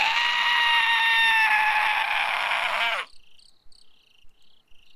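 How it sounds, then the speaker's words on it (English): A strange, terrible scream echoes across a mountainside in Summer Pockets, a loud, strained, wavering cry lasting a few seconds before cutting off into near silence with faint chirps. "A strange, terrible scream echoed across the mountainside."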